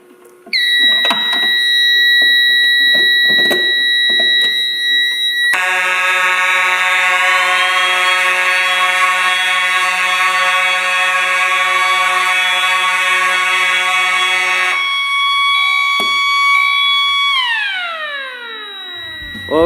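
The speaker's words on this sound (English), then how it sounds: "what if we set off every notification appliance on the fire alarm system?" Every notification appliance on a building fire alarm system sounding at once: loud, sustained layered electronic tones and horns that shift into a denser chorus partway through, then sweep downward and cut out as the system is silenced.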